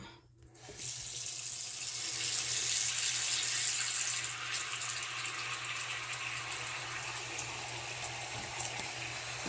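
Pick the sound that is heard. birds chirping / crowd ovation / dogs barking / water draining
water draining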